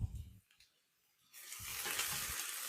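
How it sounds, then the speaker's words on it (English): Chopped onions caramelizing in a pan, stirred at intervals: broadband sizzling builds and holds steady, with low scraping bursts of the spoon against the pan, close and fairly loud. "Let's give our onions a nice stir. There's our caramelizing in."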